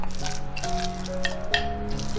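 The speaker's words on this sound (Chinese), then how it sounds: "现在来把肉末加进来" Minced meat is worked into shredded potato mixed with rice flour and salt, giving soft, wet squishing and dripping sounds close by over faint steady background music.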